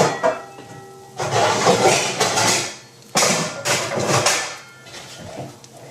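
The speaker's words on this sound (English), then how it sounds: "We're going to get a saucepan lid." A saucepan lid fetched and handled in a home kitchen while an egg omelet cooks, heard as a couple of bursts of metallic clatter and rattling, close and fairly loud, with no talk.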